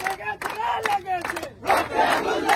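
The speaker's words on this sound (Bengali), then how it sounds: "আমরা এখন একটু স্লোগান ধরবো।" Crowd of protesters chanting slogans in rhythmic bursts at a quota reform demonstration, loud and close, with call-and-response phrases rising and falling.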